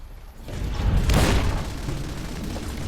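A Tesla cannon firing in Fallout: New Vegas, a single heavy booming blast that swells and rumbles for about a second before settling into a lingering low roar.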